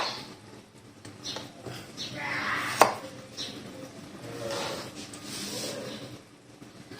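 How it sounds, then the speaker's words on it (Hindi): A knife chops cucumber on a board for a vegetable salad, giving a few sparse, light cuts at an uneven pace, close and quiet, with faint background voice and movement. "खीरे को काट लेंगे।"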